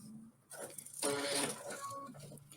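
A sewing machine stitches a weighted eye mask in a quick mechanical whir, starting and stopping in short bursts, close by and fairly quiet.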